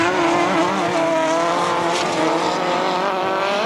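Speedway sidecar outfits race around a bumpy grasstrack circuit at the 1991 Woolpack Corner meeting, their engines a loud, steady, continuous roar with a shifting whine throughout.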